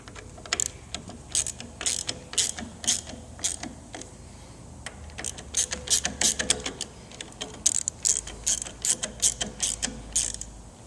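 Ratchet wrench tightening the handlebar bolts on a 2015-or-newer Harley-Davidson Road Glide during a custom handlebar install: close, repeated bursts of sharp clicking in quick runs separated by short pauses, with no voices.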